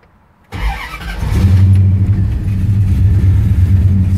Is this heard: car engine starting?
yes